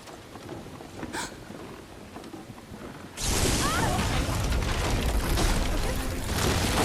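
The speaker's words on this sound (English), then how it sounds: "That's a bit convenient that it was a lightning bolt." A lightning bolt strikes in Final Fantasy 7 Rebirth, hitting suddenly with a loud broadband crash that swells into a sustained roaring rumble after a quieter stretch.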